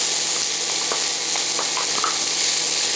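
Mushrooms tipped into a pan of softening onions sizzle and crackle steadily in hot oil, with small pops and stirring scrapes scattered across a constant frying hiss, close and alone.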